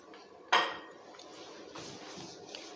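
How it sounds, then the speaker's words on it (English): A metal lid lands on a pot of semolina dessert with one bright, ringing clink that decays quickly, followed by faint rustling and quiet kitchen handling noises. "I'm just gonna close the lid, turn it down to a very low heat."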